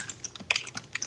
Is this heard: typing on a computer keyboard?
yes